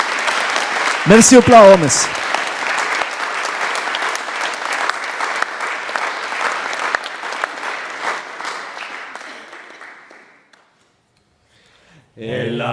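Audience clapping loudly and steadily for traditional Occitan singers at a show, sustained applause that gradually fades out, with a brief voice over the start and another voice beginning at the end.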